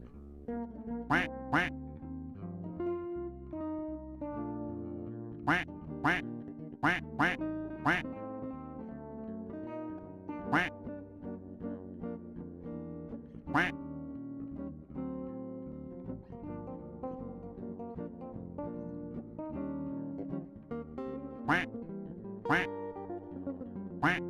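Repeated duck quacks in sound-effect style pop out in irregular bursts, some in quick pairs and clusters, sharp and clear over a soft tonal musical bed.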